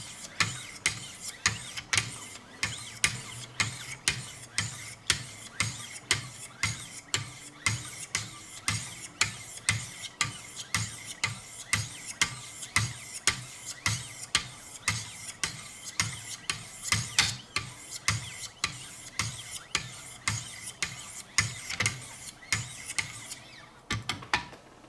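A Schrade Old Timer knife is sharpened on a Wicked Edge system with 1500 grit stones, steady rhythmic strokes of fine abrasive across steel, repeating evenly and close for a long stretch with a smooth rasping texture.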